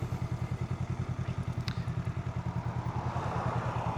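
A Honda Rebel 500 motorcycle pulls away under throttle, its engine putting out a steady rapid thumping pulse up close, with rising road and wind rush building toward the end.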